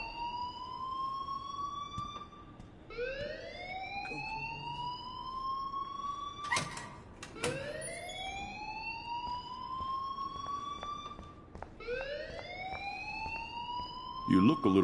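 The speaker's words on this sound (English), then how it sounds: "please turn off that alarm since that's your job" A wailing alarm in the Life Is Strange video game cycles through rising sweeps again and again, with a brief clatter midway, while voices talk over it.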